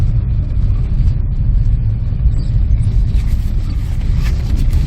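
A 1992 SAAB Turbo driving along a road, a loud, close, steady engine and road rumble with a constant low drone and no voices.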